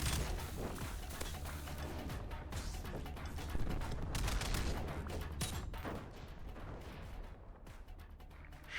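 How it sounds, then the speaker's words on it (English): Loud, dense barrage of explosions and rapid gunfire from a video game battle as a guided missile strikes, rolling continuously with overlapping booms and crackling blasts. "we just take out their weapon with the guided missile"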